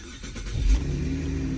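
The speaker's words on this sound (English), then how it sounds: "All right, get the car started." A 2013 Cadillac CTS engine starting: a brief low crank catches into a short rev, then settles into a steady idle hum, close by.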